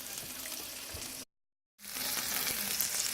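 Steady, loud sizzle of steak frying in a Gotham Steel nonstick pan, broken once by a brief full silence before the crackling hiss resumes at the same level.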